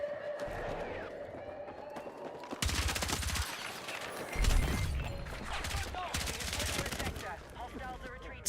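Rapid gunfire bursts from the video game Battlefield 6, loud and dense with broadband cracks, broken by short pauses, with faint in-game noise between volleys.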